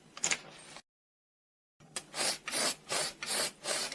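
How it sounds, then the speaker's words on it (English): A rhythmic rasping hiss from an airmax SR1250S airgun sucking air in through the small front hole, repeating in about five even pulses, close and faint, with an abrupt silent gap before the pulses. "that's the air being sucked in through the little hole in the front"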